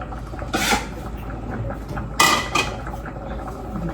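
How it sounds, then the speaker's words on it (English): Kitchen dishes and a bowl clatter while one is taken out of a cupboard during cooking, two bright clanking bursts of crockery and cutlery, close and moderately loud, with quieter rummaging in between and no talking. "Get a bowl out."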